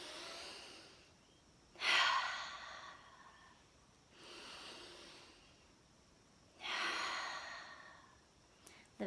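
Three big, deep exhalations during exercise come close and breathy at a slow, even pace, with quiet pauses between them.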